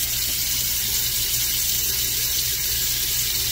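Water runs steadily from a tap into a sink to wet a head before shaving, a constant close broadband rush with a low hum underneath and no other sounds.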